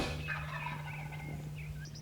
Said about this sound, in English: Nothing gets your blood pumping any more than a gobbling turkey.